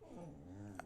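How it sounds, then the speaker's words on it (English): Marvel the dog lets out a brief, low whimper that is close and soft, lasting under a second, with a faint higher squeak at the end. "Marvel, my dog"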